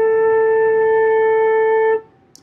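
A single sustained flute note A, fingered thumb, 1, 2 and right pinky, holds steady and clear for about two seconds, then stops cleanly, leaving a short quiet tail.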